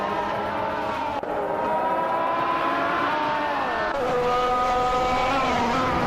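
A Mercedes F1W05 Hybrid race car engine screams at high revs in a racing video game, holding a steady loud whine that shifts pitch as it accelerates and changes gear.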